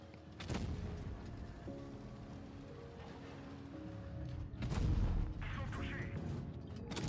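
Tank cannon fire in a video game comes as a few heavy booms set against a rumbling battle backdrop, with one large blast near the middle. Faint game sounds continue between the shots.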